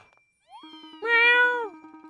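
A cat character meowing in the video game Fantasy Life, a single drawn-out, clear meow over a soft pulsing game tone.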